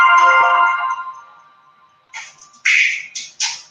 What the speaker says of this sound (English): Let my phone ring because I'm not going to answer it.